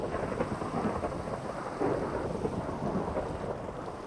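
A Minecraft thunderstorm plays as steady, dense rain hiss with low rumbling thunder beneath it, continuous and moderately loud with no voices.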